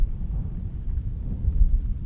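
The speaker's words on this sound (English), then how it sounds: "The thunder raged through my ears, deafening me as I fell to my knees." Deep, rumbling thunder rolls continuously during a storm, a loud low-frequency roar that swells and surges without pause, with no voices present.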